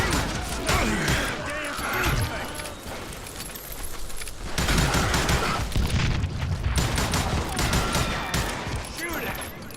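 Repeated gunfire bursts and booming shots from the Call of Juarez Gunslinger game crackle loudly and steadily through the whole stretch, with a voice talking over the action.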